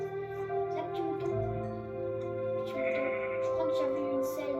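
A Minecraft sheep bleats softly amid sustained, chiming game music, with short bleats rising out of the steady melodic tones toward the end.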